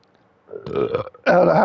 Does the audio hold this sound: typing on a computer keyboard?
no